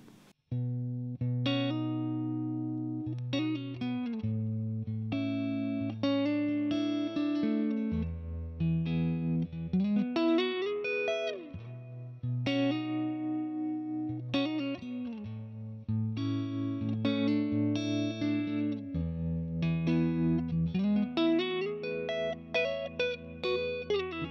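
Clean electric guitar played through Crazy Tube Circuits pedals with reverb and tremolo, sustained chords and melodic lines ringing steadily and loudly throughout with a pulsing, washy tail and no talking.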